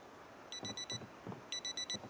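An alarm clock rings in the video game Project Zomboid, two short bursts of four rapid electronic beeps each, faint and set against a low background hum.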